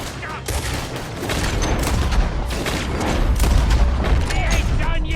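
Dense gunfire in Red Dead Redemption 2 during a story-mode shootout, rapid overlapping pistol and rifle shots cracking in irregular bursts throughout, some near and some farther off, with voices talking over the fire.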